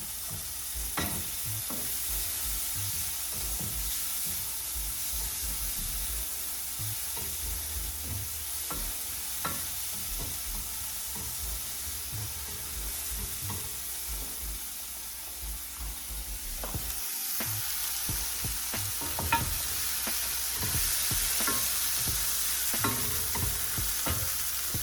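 Food sautéing in oil in a pan, a steady crackling sizzle with scattered pops and occasional scraping stirs, close and continuous for the whole stretch.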